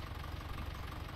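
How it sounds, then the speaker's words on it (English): Massey tractor engine idling in a farming simulator game, a steady low rumble with a faint knocking pulse and no other sounds. "I don't want the engine running"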